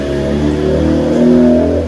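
A Honda engine fitted with a MiVEC cylinder head revs steadily up close, a loud sustained mid-pitched drone that climbs slightly in pitch, with no one talking.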